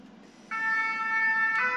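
A fire engine siren sounds from a fire station just across the street, a steady loud wailing tone starting abruptly and holding over low traffic rumble, shifting pitch near the end, with no talking.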